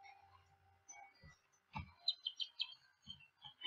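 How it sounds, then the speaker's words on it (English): Morning birdsong in the Hakuouki video game: faint, scattered chirps and twitters at a distance with soft gaps between calls and a few light clicks, quiet and without voices. "outside I could hear twitters and chirps of birdsong"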